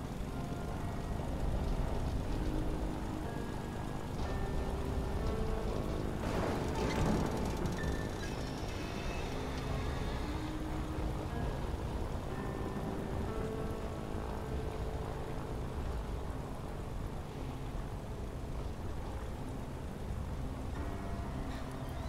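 Steady rain falls in a thunderstorm in the video game Hazel Sky, forming a continuous wash of patter with a brief brighter burst near the middle and no speech.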